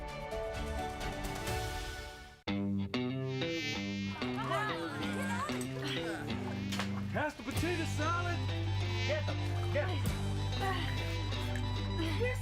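Mosquito buzzing in a Mosquito Joe pest control advertisement, a whiny high insect drone that wavers in pitch, loud and close, layered with music and tonal effects.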